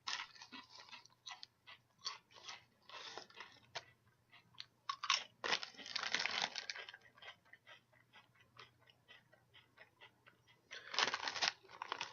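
A Walkers onion-flavoured crisp crunches and gets chewed close to the mic, with a series of irregular crackly bites and mouth crunches spread over about twelve seconds and quiet gaps between them.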